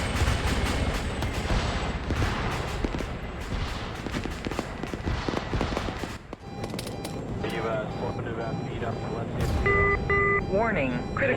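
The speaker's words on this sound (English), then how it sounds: "they hit me with a frickin' AT-4" An AT-4 rocket hits a vehicle in the military video game Arma 3, with dense, loud crackling explosions and gunfire-like bursts followed by rumbling aftermath and electronic warning tones.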